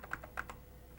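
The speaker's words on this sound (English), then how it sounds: "we use the left and right arrow keys to change the value to Scan" Arrow keys on an Apple II computer keyboard are pressed several times in an uneven rhythm, each a light plastic click, quiet and close, with no talk.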